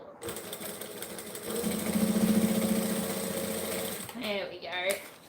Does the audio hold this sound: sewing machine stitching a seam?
yes